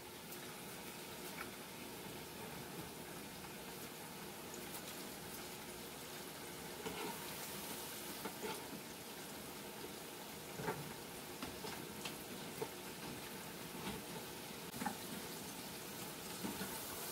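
Tilapia fries in a pan with a steady, rain-like crackle of hot oil, popping and spitting at scattered moments over a long, even sizzle.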